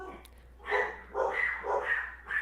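Several dogs barking indoors, a run of loud close barks and yips in uneven bursts.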